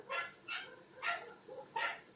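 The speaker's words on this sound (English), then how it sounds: "You stop barking at the window." Pet dogs indoors barking at a window: four short, sharp barks spaced apart, faint and somewhat distant in a quiet room.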